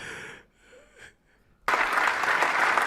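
A large audience breaks into loud, sustained clapping partway through a played speech, arriving abruptly after a quiet stretch with faint murmurs.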